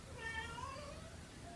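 A sad cat gives a soft, drawn-out meow, fairly faint and close in a quiet room, followed by a brief sharp higher sound at the very end.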